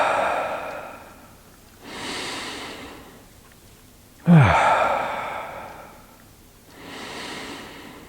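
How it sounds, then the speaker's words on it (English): Slow, deep breaths drawn down into the lower abdomen during a relaxing diaphragm exercise: three or four long, close, airy inhales and exhales with soft sighing releases and no speech. "Take a few deep breaths down here."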